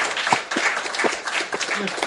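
An audience claps their hands in a loose, uneven burst with individual claps standing out, while voices talk over it throughout.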